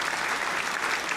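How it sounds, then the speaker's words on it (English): A round of applause rises from an audience during a live Bitcoin stream, steady dense clapping filling the whole short stretch at an even level with no voices over it. "Let's give him a round of applause."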